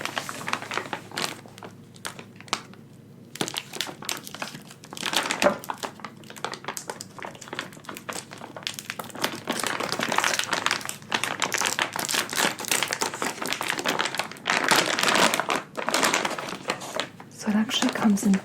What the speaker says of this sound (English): So now I will be cutting this coconut / soy wax blend.